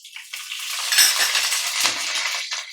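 Cumin, mustard seeds and dried red chillies sizzle steadily in hot oil, a close, continuous crackling fry with small stirring clinks, no talk over it.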